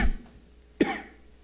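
A pastor coughing once during a Sunday church sermon, a single sharp close cough after a brief breathy start, with no speech around it.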